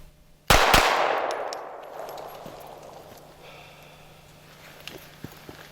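A single sharp report from a Sig Sauer P320 9mm subcompact pistol fired outdoors, followed by a second shot close behind, then a long decaying echo and a few faint clicks as it fades.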